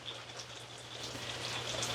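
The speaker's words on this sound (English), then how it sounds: "It's raining pretty hard." Rain falls hard and steadily, a dense continuous patter on surfaces with a faint low hum and distant chirping behind it.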